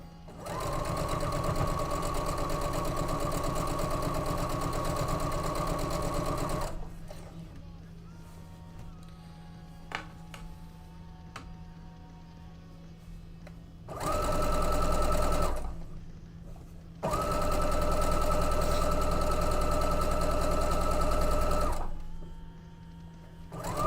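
A sewing machine runs steadily while quilting, in two long bursts separated by a quieter pause with faint rattles and clicks, then a short burst and another long stretch of sustained, even motor whir.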